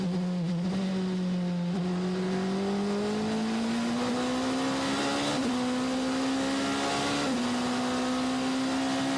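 Two Ferrari race cars at the 24 Hours of Le Mans, their engines holding a loud, steady drone that slowly rises in pitch, with brief gear shifts and no voices.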